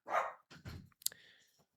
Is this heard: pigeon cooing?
no